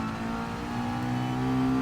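Ferrari race car in GT Sport passing close, a steady loud engine drone with a rising pitch as it pulls by, no talk.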